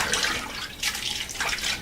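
Water being poured into a pot to cover chicken for stew, a close, splashing gush that swells in three surges without pause.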